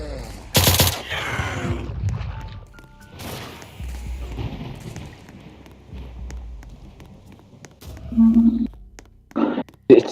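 Gunshots ring out in a video game, a sharp report early on and then a cluster of quick shots near the end, set against softer running and scuffling sounds.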